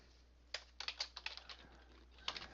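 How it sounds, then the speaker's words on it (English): Quiet, close typing on a computer keyboard: a short, uneven run of crisp key clicks in a still room. "I'll just type it right"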